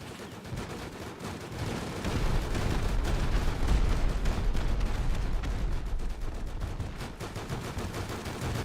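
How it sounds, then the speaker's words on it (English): In a zombie video game, a dense barrage of gunfire and rocket blasts booms with heavy low thuds and rapid cracking shots, loud and sustained throughout. "Somebody just shot a rocket right at him."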